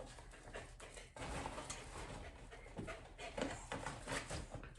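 A puppy whimpers and pants softly nearby, thin whiny cries repeating over a steady low room hum, faint and without talk.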